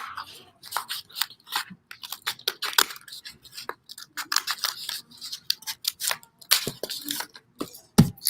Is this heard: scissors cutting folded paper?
yes